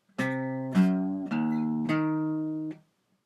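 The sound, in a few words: guitar note at 7th fret of A string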